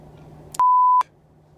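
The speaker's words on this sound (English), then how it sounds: "Text message that I just got" A single steady phone text-message alert beep rings out loud and clear for about half a second, with a faint low hum of room noise before and after.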